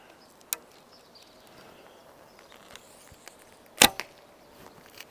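A heavy 340-grain arrow loosed from an Orhan Turkish laminated bow strikes its target with one loud sharp crack near the middle, after a smaller snap earlier, in a quiet outdoor setting.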